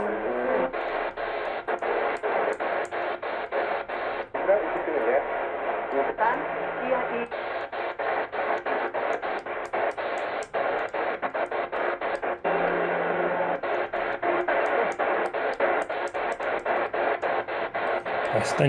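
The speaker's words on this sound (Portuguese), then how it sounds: "Bastante interferência hoje aqui." A medium-wave broadcast from Rádio Capital comes through under heavy interference, the station's voice and programme buried in constant hiss and static, with rapid clicking crackles and brief dropouts breaking the signal throughout.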